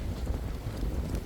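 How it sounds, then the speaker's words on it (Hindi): Strong wind blows across an open farm field during mango tree planting, a steady, loud rumble of buffeting gusts against the microphone with no voices. "बहुत हवा चल रही है"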